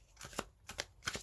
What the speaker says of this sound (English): I'm going to shuffle a couple of times